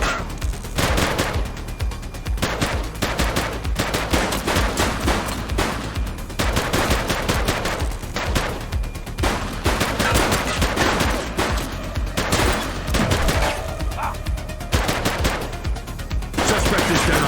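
Police gunfire aimed at armed suspects in the video game The Precinct: dense, loud bursts of rapid shots and volleys that keep going for most of the stretch, close-up, with a brief pause near the end.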